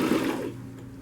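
A sewing machine stitches down a lined floral kitchen curtain in a steady whirring run, loudest at first and then easing slightly, close and alone.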